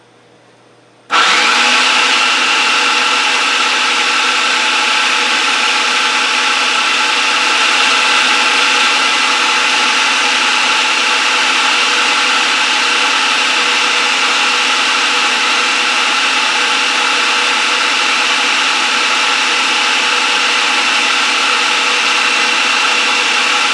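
A food processor grinds a garlic and onion paste with olive oil, starting abruptly after a quiet moment and then running as a loud, steady, unbroken whirring motor drone close by, with no speech.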